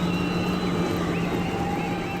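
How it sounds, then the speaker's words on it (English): Race car engines fire up together at the start of a 50-lap Discount Tire Clash event, a steady, dense, rumbling drone that holds evenly throughout with no voices over it. "As the engines fire"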